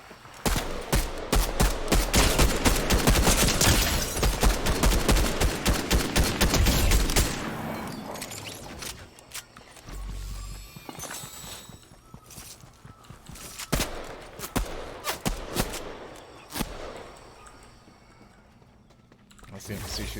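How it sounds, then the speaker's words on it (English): An NPC fires at the player in a video game, a rapid close volley of gunshots that gives way to sparser shots and footsteps under a speaking voice. "That's the NPC shooting me."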